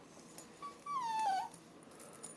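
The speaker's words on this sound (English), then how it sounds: "I deal with a dog that's whining her head off." A female dog lets out one drawn-out, falling whine, fairly faint against a quiet indoor background, with a few softer stirrings around it.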